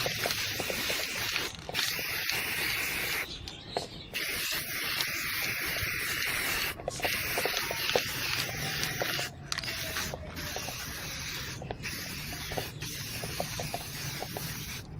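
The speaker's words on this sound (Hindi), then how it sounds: "अब ऊपर की जगह पे हल्का हल्का स्प्रे मार दें।" Spray paint hisses steadily onto a plastic soda bottle, with one continuous close spray broken by a few brief pauses.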